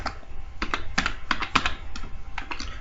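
Rapid keystrokes on a computer keyboard while C program code is typed, an uneven run of sharp clicks and taps with short bursts and pauses, close and clear with no talking.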